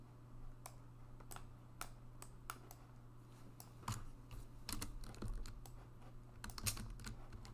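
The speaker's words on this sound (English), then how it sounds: "And you press K on your keyboard" Computer keys are pressed in a quiet room, giving faint, irregular clicks of typing spread across several seconds under a low steady hum.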